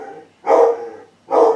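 A dog barks twice nearby, two loud, full woofs about a second apart.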